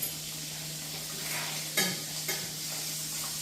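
Sausages frying in a pan on a turned-down burner, a soft continuous sizzle with a low hum beneath and a couple of sharper spatters or utensil clicks.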